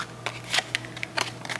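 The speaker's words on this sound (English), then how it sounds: "I'm gonna shuffle this deck." A deck of tarot cards is shuffled close up, crisp papery riffles and flutters in short bursts with brief gaps between them.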